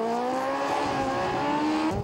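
A student-built university race car drives during a 22-kilometre feature race, its engine holding a steady high-pitched drone that shifts slightly in pitch, fairly loud, with no talk.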